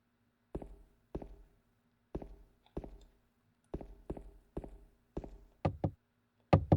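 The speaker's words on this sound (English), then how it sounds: "I knock on the door, but there's no answer." Knocking on a door in Silent Hill 2, in sharp, close wooden raps grouped in pairs and short runs with quiet gaps between, ending in a few louder knocks.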